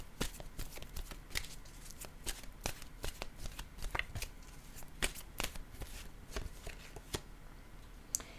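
Oracle cards are shuffled by hand in a close, quiet room, with a series of crisp riffling snaps and soft slaps coming at irregular intervals.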